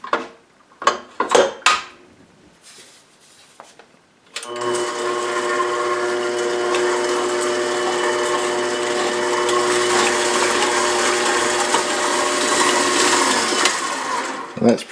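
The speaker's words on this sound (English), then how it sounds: "These things will get beaten until they are combined." An electric hand mixer or stand mixer beats warm milk, sugar and other bun-dough ingredients, starting after a few handling knocks and then running loudly and steadily as a continuous whirring drone.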